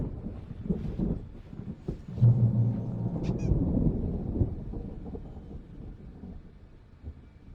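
Low rumbling thunder from an approaching storm in the video game Alan Wake Remastered, a sustained dull roll with wind-like noise that swells and then slowly fades into a distant hush.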